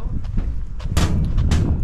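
Firecrackers go off outdoors on an Albania and Montenegro trip, several sharp cracking bangs over a windy rumble, the loudest two landing close together near the end.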